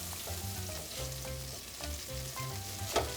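Zucchini corn fritters sizzle faintly and steadily in a frying pan beneath soft background music, a quiet continuous crackle with no talking.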